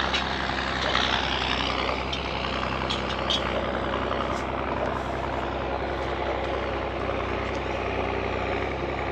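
An old International 1086 tractor working ground in a field, its engine a steady, loud, continuous drone with a dense rumble throughout and no talk.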